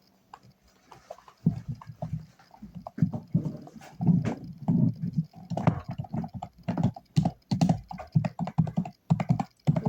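Typing on a new computer keyboard, a dense run of close, irregular key clicks and clacks that starts faint and grows busier and louder, with no talking.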